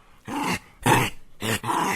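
A dog barks and growls in three rough, close bursts separated by short pauses, loud and alone with no voices.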